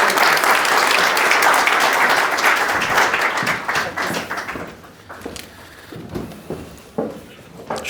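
Audience applause welcoming a speaker at a conference hall, loud, steady clapping that tapers off after about five seconds into scattered claps.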